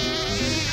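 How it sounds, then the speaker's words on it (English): A kazoo played in a buzzing, bee-like drone, steady and close with a rich nasal tone, short and alone without speech. "Fred the Bee plays kazoo"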